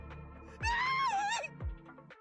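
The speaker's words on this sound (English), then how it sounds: "Again with these girly screams." A high, wavering scream from a character in the Zenless Zone Zero video game rises sharply and holds for about a second before trailing off, set between two low thuds.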